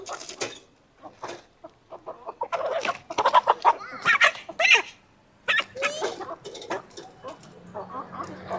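Rooster and hens being sold at a Vietnamese rural market or farm, clucking and crowing in a busy, close-up jumble of short calls with brief pauses, alongside people talking.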